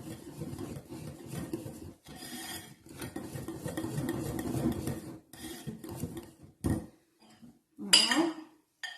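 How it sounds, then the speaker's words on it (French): A whisk or spoon folds egg whites into a cake batter in a bowl, giving bursts of close, rough scraping and swishing strokes that pause briefly, with a sharper clink near the end. "Je mélange mes blancs d'œufs avec le reste de mon appareil"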